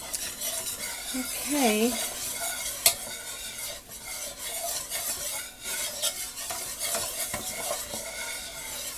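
Flour is stirred into hot oil in a pan for a Southern chicken fried steak dinner: a continuous scraping stir over a steady sizzle, with a sharp clink near the middle and a voice speaking briefly.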